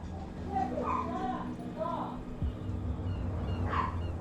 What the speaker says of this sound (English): we have an annoying dog who never shuts up